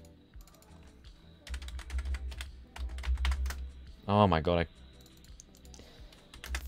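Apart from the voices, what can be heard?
typing on a computer keyboard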